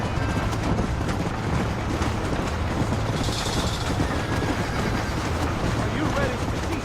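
A train rolls steadily through a Red Dead Redemption game scene, a dense continuous rumble with faint rail clatter running the whole time, voices talking over it.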